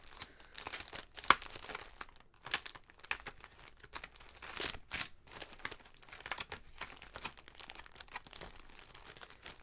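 A large pack of stickers being handled, with irregular crinkling and crackling of plastic and paper, bursts of rustling and sharp rips coming close and loud against an otherwise quiet room.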